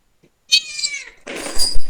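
A pet cat gives two close, loud meows in a row, the first a clear rising cry and the second rougher and noisier, with no talk over them.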